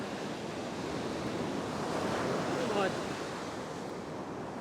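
Ocean waves breaking on a beach during surf fishing, a continuous loud roar of surf swelling slightly midway, with wind buffeting and a faint voice briefly underneath.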